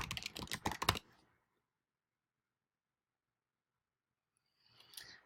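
A burst of quick keystrokes on a computer keyboard for about a second, then silence, then a few faint clicks at the end. Nobody speaks.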